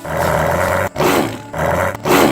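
A tiger's roar, three deep rasping bursts in a row with short breaks between them, loud and close with no other sound.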